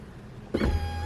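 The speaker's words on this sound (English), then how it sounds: "This will probably be able only to lift up and down my window." Car power window motor starting up and running steadily as the window raises, a sudden whirring hum that holds at an even pitch, close and alone.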